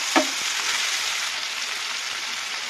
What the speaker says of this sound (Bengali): পেঁয়াজটা গোল্ডেন ব্রাউন হয়ে গেছে, আমি এর মধ্যে দিয়ে দেবো একটা টমেটো কুচি